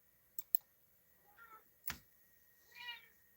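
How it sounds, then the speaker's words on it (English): A house cat gives two faint, drawn-out meows about a second apart in a quiet room, with a few soft clicks and taps around them. "My cat seems to be very vocal and welcoming just Jessica."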